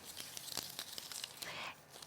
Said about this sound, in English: I can crumple it up first